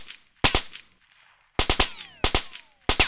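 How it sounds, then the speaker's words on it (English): A gun fires in a Godot-made video game, sharp synthetic shots in quick bursts of two or three separated by brief silences, each with a short ringing tail. "when I click with the mouse, it shoots"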